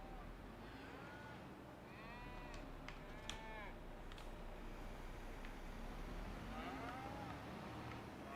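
Cattle mooing in Farming Simulator 25, several drawn-out lowing calls from a cow over a steady farm-machinery hum, moderately distant and fairly soft, with no speech.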